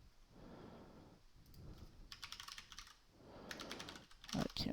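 Close typing on a computer keyboard in bursts of rapid clicky keystrokes separated by short pauses, over faint background noise.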